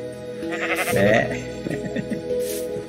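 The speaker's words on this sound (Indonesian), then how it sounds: "Ada kambing." Bleating from a goat in Minecraft Education Edition, one wavering call rising near mid-clip over steady game background noise, with a few shorter cries after it.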